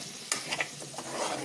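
Prawns and coriander frying in a pan while being stirred, a steady close sizzle with a few scraping stirring strokes over brief moments.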